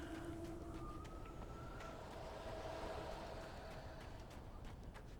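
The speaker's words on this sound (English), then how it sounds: "The trains are coming." Trains approach in the video game Alan Wake with a low, steady rumble and drawn-out horn-like tones, faint and continuous throughout.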